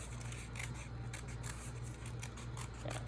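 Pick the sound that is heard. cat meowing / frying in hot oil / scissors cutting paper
scissors cutting paper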